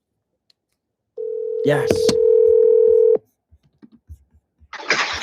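Phone call placed to a work or cell number: a steady dial tone with quick keypad tones layered in, cutting off abruptly, followed by faint soft clicks and a burst of noise as the line connects.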